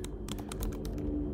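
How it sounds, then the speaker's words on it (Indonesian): Rapid keystrokes on a computer keyboard, entering code for a Phoenix Framework web layout, tapping in quick irregular bursts, close and clear over a low steady hum. "Jadi kita cukup ketikkan nih"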